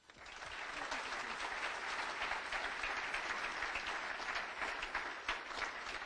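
An audience at a Rotary luncheon applauds to welcome a speaker, steady moderately distant clapping that swells quickly and holds for about six seconds without fading.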